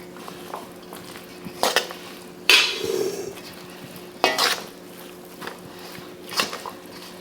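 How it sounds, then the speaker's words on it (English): Mayonnaise being stirred into a steak sandwich filling with a utensil in a bowl, giving several separate wet scraping and squishing bursts with short pauses between, close up and moderately loud. "So I'm gonna start off with just a couple of heaps of mayonnaise there and just make sure I mix it in well."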